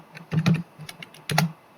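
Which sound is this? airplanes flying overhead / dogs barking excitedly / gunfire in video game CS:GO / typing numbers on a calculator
typing numbers on a calculator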